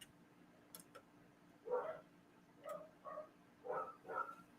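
Dogs barking upstairs, muffled and distant through the floor, in a burst of several barks after a pause, then a few more in quick succession.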